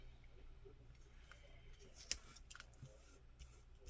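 Scissors cutting paper carefully, faint and close, with soft scattered snips and one sharp click among quiet rustling.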